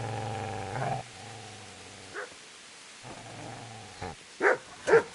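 A dog growls and barks in Kingdom Come Deliverance, with low rumbling growls in two long stretches followed by a few short, sharp barks toward the end, close and fairly loud.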